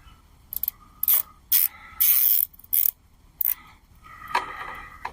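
A strap being ratcheted tight on a bamboo trellis, with a series of loud, close zipping pulls and clicks in irregular bursts followed by softer rattling.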